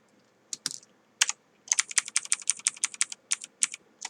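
Quick bursts of computer keyboard key presses for the Ctrl+S save shortcut in Photoshop, a few separate taps followed by a fast, steady run of close clicks, with no talking.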